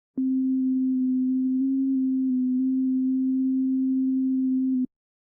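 One steady synthesized note C holds at a constant pitch for about five seconds, a pure, smooth tone with clean start and stop, alone.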